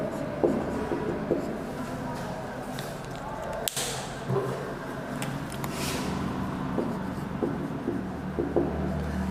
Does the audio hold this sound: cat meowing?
no